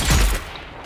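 A single loud, booming burst of gunfire in a video game, with a heavy low thump at the start and a noisy tail that decays quickly.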